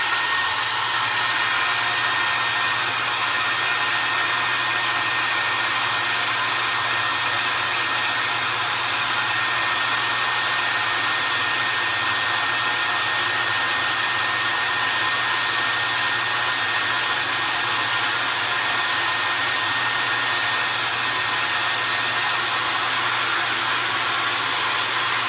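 Hair dryer blowing steadily on high to dry paint on caramel apples, a loud continuous whoosh that runs unbroken for the whole stretch with no talking.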